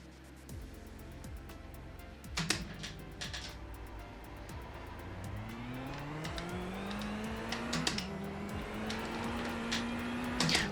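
A simulated race car in iRacing, driven off the grass and back onto the track with a direct drive wheel, its engine climbing steadily in pitch as it accelerates, loud and continuous with sharp transient knocks throughout.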